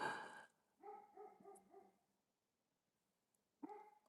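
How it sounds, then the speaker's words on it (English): A dog barks a short run of four or five yaps, pauses, then barks again once, heard fairly faint in an otherwise quiet indoor setting. "Why would he just bark like this?"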